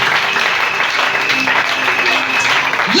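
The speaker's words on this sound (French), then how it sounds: "Est-ce que nous pouvons acclamer?" A church congregation breaks into loud, sustained applause, a dense wash of clapping filling the space from start to finish, with voices faintly mixed in.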